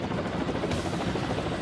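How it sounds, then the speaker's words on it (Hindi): A Kamov Ka-27M anti-submarine helicopter flying over the sea, its rotor and engine a dense, steady rumbling drone that stays loud throughout. "समंदर के ऊपर आसमान में कैमोव का 27M एंटी सबमरीन हेलीकॉप्टर दिख रहा है।"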